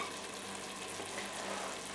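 Spices with turmeric frying in a pan over very low heat for aloo matar paneer: a steady, soft, continuous sizzle and crackle, close and even throughout, with no voices.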